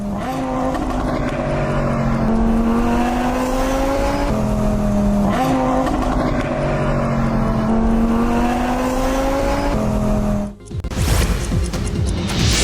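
A Lamborghini speeds along Bengaluru's airport road with a loud, harsh engine, revs climbing in repeated gear pulls before a sudden cutoff, then a burst of rushing noise.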